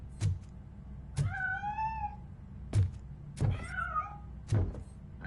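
A cat meows twice in the video game Robocop Rogue City, drawn-out wavering cries between heavy mechanical footfall thuds, close and clear over a low background hum.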